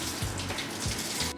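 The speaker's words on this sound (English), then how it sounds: "on the green markets we always have a nice free public fountain" Water pours steadily from a free public fountain at an open-air green market, a continuous close splashing stream with no voices.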